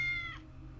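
A cat meows once in the Tales of the Neon Sea video game, a short, clear, slightly drawn-out cry that fades into a low background hum.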